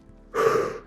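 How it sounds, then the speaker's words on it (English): A single sharp inhale taken while lowering into a squat during a strength workout, short and close, alone after a brief quiet lead-in. "Inhale as you come down"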